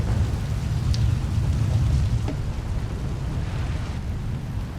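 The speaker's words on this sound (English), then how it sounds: "a fierce storm coming our way" Steady heavy rain from a fierce storm fills the scene with a dense, continuous hiss, while low rumbling thunder rolls underneath and a few faint cracks break through, all sustained without a pause.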